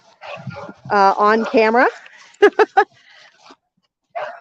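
A loose, friendly puppy at a homestead whines in rising and falling yelps, then gives three quick, sharp barks nearby, with people talking around it.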